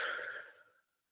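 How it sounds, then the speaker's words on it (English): A single deep breath drawn in and let out in a soft, airy rush that fades to silence within a second, close and quiet. "you stop and you breathe in deep"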